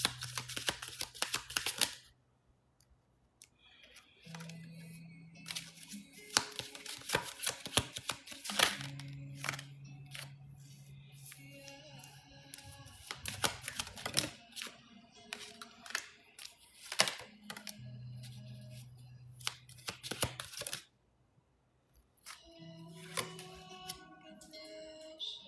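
Tarot cards being shuffled and drawn, giving a run of papery riffles, flicks and taps that come in bursts with short pauses, over steady low musical tones.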